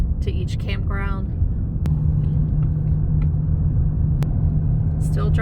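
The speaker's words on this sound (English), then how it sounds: "Still driving." A car rolls through the Santee State Park campground in South Carolina, its steady low road rumble continuing beneath a person talking, with a couple of sharp ticks.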